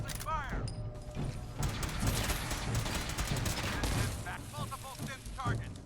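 Fallout 4 combat with repeated bursts of gunfire and mechanical clatter fired in quick volleys against synth enemies, loud and close, with shouted voices in the game over the shooting.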